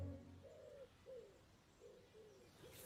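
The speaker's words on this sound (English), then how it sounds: "The pigeon's serenading me again." A pigeon coos softly in a garden, repeating a low, gentle, rhythmic call several times at a steady pace, faint and somewhat distant over quiet outdoor background.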